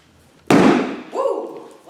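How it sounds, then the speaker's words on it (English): A canned biscuit dough tube bursting open with one sudden loud pop and a rush of hissing release, quickly followed by an excited exclamation from a voice. "we're going to open up our canned biscuits"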